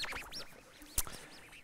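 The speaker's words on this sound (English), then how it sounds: "We have a bird's nest in here." Birds chirping from a nest inside a room at a science and innovation day talk: a string of quick, rising-and-falling high chirps repeating fairly faintly, with one sharp knock partway through and no talking.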